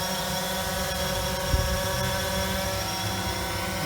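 A drone hovers during a test flight, a dense, steady whirring buzz of rotors filling the sound close by and unbroken, with no voices over it.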